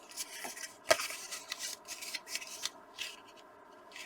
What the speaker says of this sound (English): I am going to fold these and use my bone folder to make them nice and crisp.